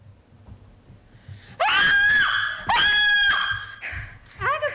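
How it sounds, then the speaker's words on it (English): A woman screams in a radio drama performed indoors, letting out two long shrill wavering screams close to the microphone, then breaking into shorter gasping cries. "Agatha, you are screaming!"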